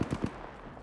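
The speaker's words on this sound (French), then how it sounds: "Ça tire, mais où?" A quick burst of three gunshots in Apex Legends, punchy and close, followed by a fading tail and low background hum.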